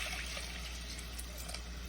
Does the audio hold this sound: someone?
no